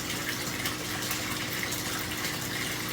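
Water drains out of an aquaponics grow bed in a steady, close gushing rush that keeps an even level throughout, with no voices.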